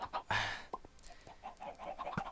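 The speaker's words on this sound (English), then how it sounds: "And then here I've got my auto chicken farm." Chickens cluck on an automatic chicken farm in the video game Minecraft, with a louder squawk near the start followed by a series of soft, scattered clucks.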